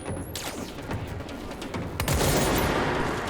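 Rapid bursts of gunfire from the video game Control, a dense volley of shots that grows louder and heavier in its second half, with no talk over it.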